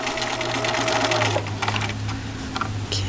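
Sewing machine stitching a miniature elastic-waisted skirt, a steady close whirring hum with a continuous mechanical drone that runs without pause for several seconds.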